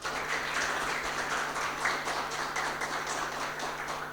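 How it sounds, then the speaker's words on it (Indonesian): Applause from a webinar audience closing a cooperative-themed online seminar, a steady wash of clapping that holds at an even level for the full four seconds with no voices over it. "ini kita aplaus kepada para narasumber"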